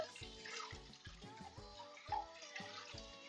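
Hands sloshing and splashing in a sink of water during a home stream, soft intermittent swishes and drips coming close and fairly faint.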